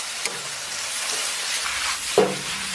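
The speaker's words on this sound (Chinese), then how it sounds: "香菇丁下到锅中翻炒" Diced shiitake mushrooms and beef stir-fried in a hot wok with chili sauce, a steady loud sizzle and hiss with a couple of sharp scrape or clatter accents of stirring, no talking.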